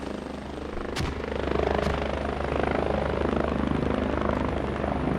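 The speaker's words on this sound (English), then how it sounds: "OB using the chopper, getting a fob up in the center of West Stepney" Helicopter in the military shooter game Squad, arriving at a match's capture zone, its rotor thumping steadily and loudly close by, a continuous chopping drone with a couple of sharp clicks early on.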